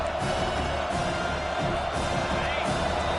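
Stadium crowd at a Notre Dame football game roars steadily on a defensive third down, a dense continuous wash of cheering and noise with a commentator talking over it.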